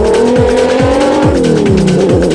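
A BAT Spec Zero race car driven by a father and son team in the Stella 250 race roars loudly and close, its engine note sweeping through a rapid series of gear changes as it passes.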